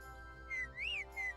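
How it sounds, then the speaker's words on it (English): Three short, pure whistle tones sound over a steady electronic hum in a video game, the middle one longer and rising then falling in pitch. "Ooh, 2 whistles"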